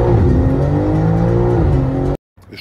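A BMW M3's engine revs loudly and close up in a sustained, rising and falling roar, then cuts off abruptly near the end.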